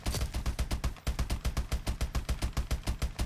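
Rapid, evenly spaced gunfire from a weapon tapped quickly in Call of Duty: Advanced Warfare, about twenty sharp shots in steady rhythm with a brief gap near the start, loud and close with no talk.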